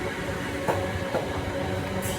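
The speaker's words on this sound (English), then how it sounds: "as a train comes past making very loud noise" A train roars past close by at steady high volume, with rumbling wheels and a few metallic clacks and squeals, and no voices over it.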